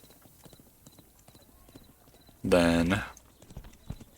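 Horses in the video game Thronefall, with quick clip-clopping hoof taps scattered through the clip and a loud whinny-like burst in the middle, under faint intermittent talk.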